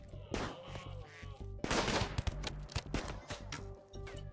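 Scattered gunshots in a video game fired in a few irregular bursts, some loud and near, mixed with other game noise and chatter.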